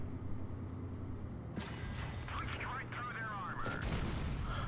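A high-explosive shell fired from a KV-2 heavy tank in WOT Blitz, a single deep boom followed by a ringing, whistling tail over a steady low engine rumble, moderately loud and alone.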